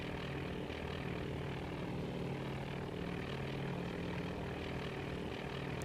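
In the naval strategy game Task Force Admiral, several sections of aircraft dive together, their propeller engines making a steady, rough droning roar that stays constant and fairly loud throughout.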